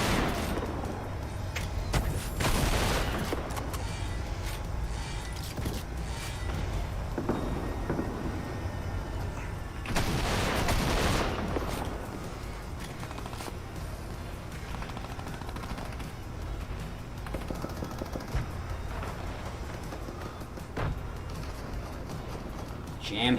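Bursts of gunfire in a competitive Fortnite Creative match, with heavy volleys and loud sustained stretches over a constant rumble of game noise and talk.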